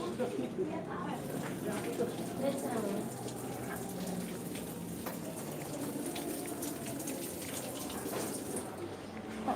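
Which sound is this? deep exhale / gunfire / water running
water running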